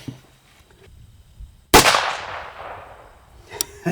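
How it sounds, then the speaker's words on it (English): A single sharp gunshot from a hand-made double barrel pistol chambered in .17 HMR cracks loud and close after a quiet stretch, its report decaying over about a second, with a small click afterward. "So we're going to shoot the HMR first."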